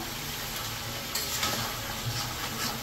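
Cauliflower and potato curry sizzles steadily in a hot pan as vegetable stalks go in, a close, even frying hiss with a few brief stirring scrapes and louder crackles.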